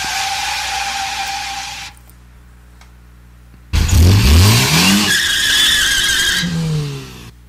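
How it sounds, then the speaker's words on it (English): Car tires screech loudly in several long, wavering squeals, first a steady high whine, then after a short quiet gap a louder burst of rising and falling skids with engine noise beneath. "It's just tires screeching."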